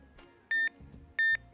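A Trakker carp alarm receiver gives two loud, clean electronic beeps while its volume dial is turned, each a short steady tone with a faint softer blip before the first.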